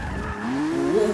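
Tires of a Lykan Hypersport squeal under hard braking in Forza 6, a rising tonal screech over about a second, loud and continuous, with no voice.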